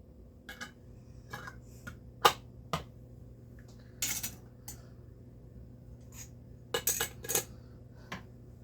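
Metal lids and bands clink and click sharply onto glass canning jars of homemade restaurant-style salsa, a series of close, scattered taps and small rattles.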